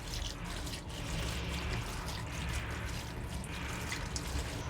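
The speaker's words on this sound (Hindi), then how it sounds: "और इस पर हम डालते हैं थोड़ा ठंडा पानी, ताकि ये चिपक ना जाए।" Cold water poured over boiled macaroni, a steady even stream of splashing and trickling that holds for several seconds, close up, with no voices.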